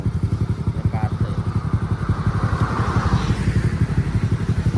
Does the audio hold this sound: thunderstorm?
no